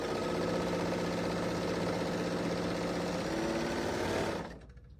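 A serger sewing machine runs steadily while quilting, a continuous fast mechanical whirring drone that stops abruptly near the end.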